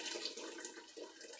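Ham broth pouring and draining through a strainer, a continuous rushing trickle of liquid heard up close at moderate level, with no voices.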